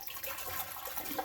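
Thick, goopy liquid poured into a container while making homemade plum wine, a steady wet splashing and trickling that runs continuously at close range.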